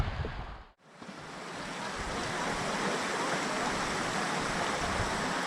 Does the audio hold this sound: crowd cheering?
no